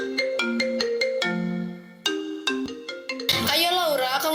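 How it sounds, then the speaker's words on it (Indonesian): A mobile phone ringtone plays loud and close as a bright electronic melody of rapid repeated notes, then shifts to a denser, busier ringing passage near the end. "tiba-tiba terdengar dering handphone miliknya"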